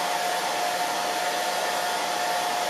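A hair dryer on a light temperature setting blows a puppy dry after her bath, giving a loud, steady, unbroken whooshing hum from start to finish.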